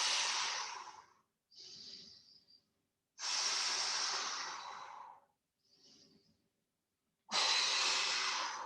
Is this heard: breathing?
yes